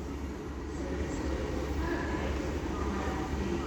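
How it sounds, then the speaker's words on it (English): A light locomotive, a class 56 or 59, rolls through Doncaster station as a steady, broad rumble with faint wheel noise, distant and continuous throughout. "all I know it's running a light locomotive"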